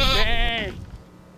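Goat bleating on a small farm run by Somali refugees in Utah, one long wavering cry that is loud and close, then fades out into quiet air.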